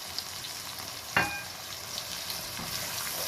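Star anise, black cardamom, bay leaves and cumin fry in hot oil with garlic, giving a soft, steady sizzle. A sharp spitting crackle bursts out briefly as something is stirred in, with no talk.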